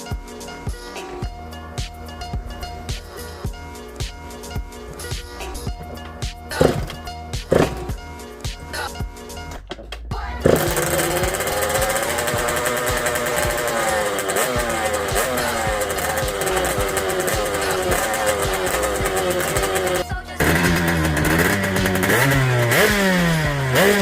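Derbi Senda DRD Pro motorcycle engine, freshly kick-started, runs steadily and loud from about ten seconds in, with rising and falling revs and a brief dip near twenty seconds; before that only faint clatter and handling noise.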